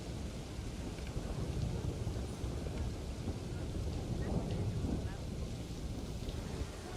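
A thunderstorm in the video game Planet Coaster 2 gives a steady wash of rain and wind with a low, continuous rumble that holds at an even level for the whole stretch.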